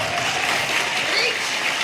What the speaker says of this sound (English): They're all cheering.